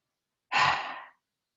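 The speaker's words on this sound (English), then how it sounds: "Eyes open, mouth open, tongue out, exhale." A single forceful exhale through a wide-open mouth with the tongue out during a yoga face exercise, a breathy rush that swells quickly and trails off, close and alone in silence.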